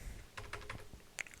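Fast, soft clicking of keys as code is typed on a computer keyboard, an uneven run of close, quiet taps with one sharper keystroke near the end.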